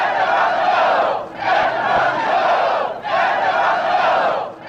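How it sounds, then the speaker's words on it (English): A protest crowd outside a police precinct chants a short phrase in unison, repeating it in loud, regular surges that swell and dip roughly every second and a half. "The crowd outside starts chanting"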